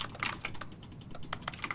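Computer keyboard keys clatter in quick irregular bursts of soft clicks while someone plays a video game, close but fairly quiet over a low background hum, no speech.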